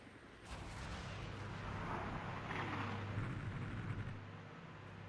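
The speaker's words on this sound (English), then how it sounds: "I'm actually going to deploy some high explosive rounds" High explosive artillery rounds fire and boom in the Armored Brigade war game, a broad rumbling blast that swells and lingers for several seconds before fading.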